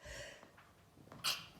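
A single short sneeze from an adult indoors, a quick sharp burst with a hiss near the end, preceded by faint breathing and low background murmur.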